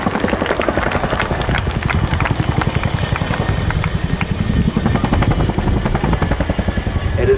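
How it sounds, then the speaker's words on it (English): A Chinook twin-rotor helicopter departs at an air display, its thunderous rotor blade slap pulsing steadily and loudly throughout, with heavy engine roar underneath. "the thunderous sound of the Chinook's roar"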